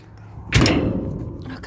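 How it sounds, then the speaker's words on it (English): A door being pulled shut during an Oklahoma blizzard lands with a single close, heavy thud, followed by a low rumbling scrape as it settles, with a voice murmuring faintly nearby. "My pant leg is sticking to the door right now, trying to get this closed."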